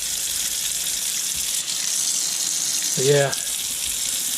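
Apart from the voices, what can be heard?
water draining through a clogged sink pipe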